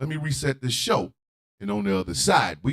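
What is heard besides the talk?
None of the usual background noises is heard.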